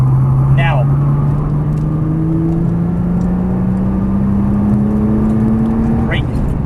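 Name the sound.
Nissan GT-R accelerating on a race track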